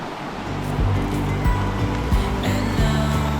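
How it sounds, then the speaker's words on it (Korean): Strong rushing river current in a valley in Kazakhstan, swollen after heavy rain, with a steady close roar of water and a faint musical hum in the background. "계곡물이라기에는 너무나 강물 같은데? 와, 물살이 장난이 아닙니다"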